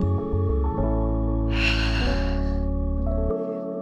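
A single deep breath during yoga, a slow airy inhale or exhale rising and fading over a couple of seconds above soft steady background music.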